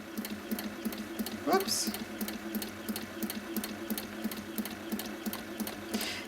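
An HQ Sweet Sixteen sewing machine runs at slow speed for free motion quilting, giving an even, rapid stitching rhythm throughout, with a brief spoken word partway in.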